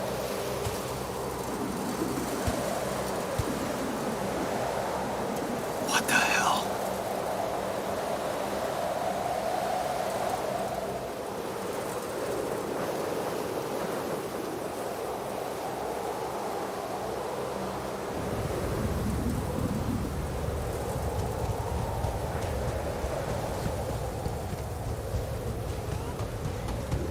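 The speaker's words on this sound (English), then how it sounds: "We're still in the storm." Steady rain-like roar and wind of a storm in The Alters, a dense broadband wash that holds throughout with a brief crackling burst early on and a deeper rumble swelling in the final stretch; no clear thunderclap stands out.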